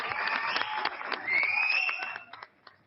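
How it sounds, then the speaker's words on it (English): An audience claps and cheers in a short burst of applause, dense and close, tapering off into scattered claps. "I think y'all should give her a round of applause"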